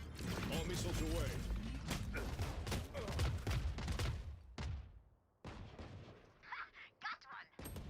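A video game missile barrage erupts in loud rapid bursts of explosive fire and booms, drops to near silence, then returns in scattered sharper blasts.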